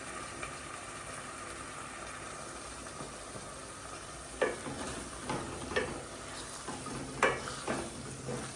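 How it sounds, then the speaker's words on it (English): Ackee and saltfish, sprinkled with black pepper, bubbling and frying in a pot, a steady soft sizzle with a few sharper pops and stirs in the second half, with no talking. "Let it go on bubble."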